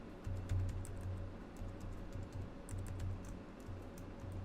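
Rapid, uneven clicks of a computer keyboard as code is typed, steady and close over a low background hum, with no talking.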